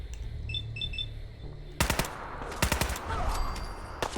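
Automatic gunfire in Fallout 4 erupts after a brief electronic beeping, rapid loud bursts of shots crackling close and sharp, repeating in clusters over a noisy game backdrop.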